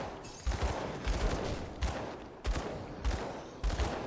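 Dual pistols fire in a video game, bursts of loud, rapid shots arriving in several clustered volleys separated by brief pauses.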